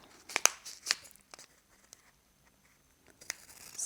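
Scissors snip along the side of a small stamped envelope sent by mail, a few sharp crisp cuts and papery crinkles close by, separated by quiet pauses.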